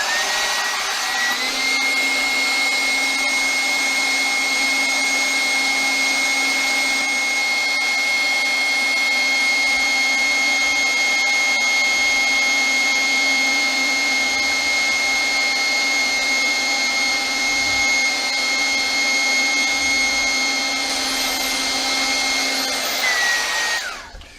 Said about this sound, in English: Repurposing an old airbed inflator to do the job of a vacuum cleaner.